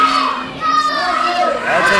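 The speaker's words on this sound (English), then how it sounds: "this crowd is really amped up" A wrestling crowd at a Rocket City Championship Wrestling event cheers and shouts loudly and continuously, with dense excited voices filling the arena and rising again near the end.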